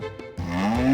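A buffalo lows in a single drawn-out moo that starts after a brief soft lead-in and swells, rising steadily in pitch toward the end, close and loud with no one talking.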